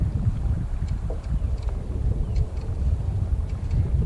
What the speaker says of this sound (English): That wind's gonna wash me everywhere.